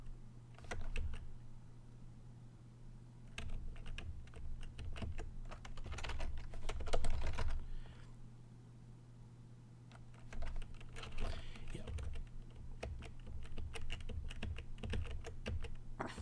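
Rapid, close clicking of keys as commands are typed into a Space Quest II text parser on a computer keyboard, in uneven bursts with brief pauses over a low hum.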